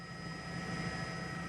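A news helicopter flies above a large police scene at St. Clair Square mall, its steady rotor and engine drone a continuous, even hum with no voices over it.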